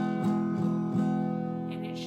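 An acoustic guitar chord, fretted on the G string, is strummed a few times in quick succession and then left ringing clearly, with no voices over it.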